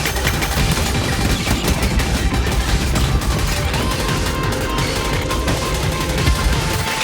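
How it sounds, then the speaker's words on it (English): Gunfire in the twin-stick roguelike pinball shooter Go Mecha Ball rattles loudly and without pause, a dense stream of rapid shots and blasts filling the whole stretch. "There is a permanent thing on the outside of the map firing at you the whole time"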